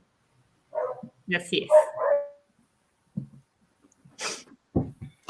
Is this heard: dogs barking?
yes